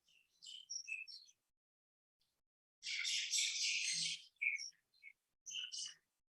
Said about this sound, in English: Birds are in the house now.